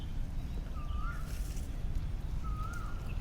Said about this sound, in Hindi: कोयल बोल रही